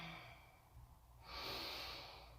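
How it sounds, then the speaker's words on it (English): A single slow yoga breath, a quiet inhale followed by a fuller, airy exhale, close and soft with no talking. "Take a few breaths here."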